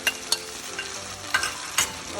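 Chicken karahi being stirred in a pan, a spoon scraping and clacking in a few sharp strokes over a steady close sizzle of frying, with no talking.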